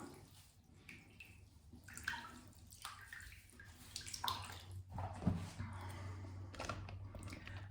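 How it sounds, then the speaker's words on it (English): A sponge being rinsed under running water gives soft splashing and trickling with squelchy squeezes and a few drips, fairly quiet and close, with no talking. "I've just given my sponge a rinse"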